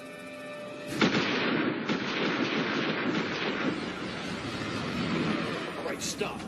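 Rapid bursts of gunfire in the Helix Loaded movie finale, a sudden loud onset after a second followed by sustained, crackling shots.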